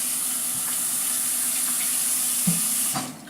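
Tap water runs steadily into a sink while egg is rinsed off fingers in a home kitchen during breakfast cooking, a constant hiss with small splashes near the end, close and moderately loud, no talking.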